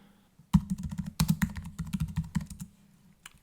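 Computer keyboard typing while card details are entered during an Amazon UK Prime sign-up: a quick, close run of clicky keystrokes lasting a few seconds, with no talk.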